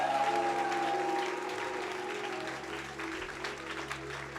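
Church congregation applauding the Lord during a French-language worship service, a sustained burst of clapping over lingering sustained organ or keyboard tones, fading slightly toward the end.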